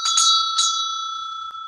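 A small bell is struck a few times in quick succession before a yoga session, its clear metallic tone ringing close and loud and then sustaining in a long, steady fade.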